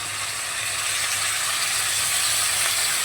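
Onions sizzling steadily in hot oil as ginger-cumin paste goes into the pan, a loud continuous hiss with no voices.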